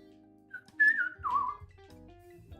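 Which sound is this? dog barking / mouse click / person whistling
person whistling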